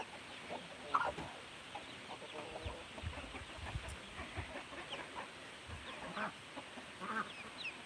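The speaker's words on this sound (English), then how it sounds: "I think we have 5 or 6 hens in here now." Hens clucking inside a farm coop, several birds making scattered soft clucks and occasional sharper calls over a steady background hum, fairly quiet and close.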